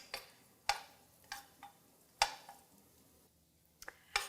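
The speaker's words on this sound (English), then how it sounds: "You hear that little bit of a sizzle, which is great." Garlic sizzles gently in heated oil in a pan, a faint quiet frying bed broken by several sharp crackles and pops spaced irregularly through the moment.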